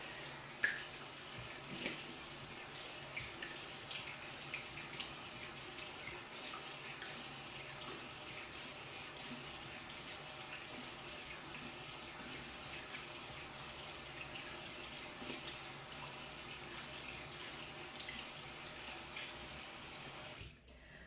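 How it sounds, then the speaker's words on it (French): Lukewarm water runs steadily from a bathroom tap during a morning face-rinsing routine, a constant close splashing hiss with faint irregular splatters, lasting about twenty seconds before cutting off. "Allez, je mets de l'eau chaude. On va mettre de l'eau tiède. Et on rince."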